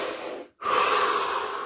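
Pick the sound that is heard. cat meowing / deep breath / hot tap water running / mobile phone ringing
deep breath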